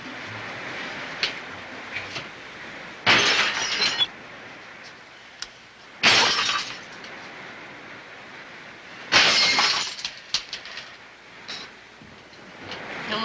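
Drinking glasses smashing and shattering in a 1950s film scene, three sharp crashes spaced a few seconds apart, each a bright burst of breaking glass with quieter clinks and room noise between.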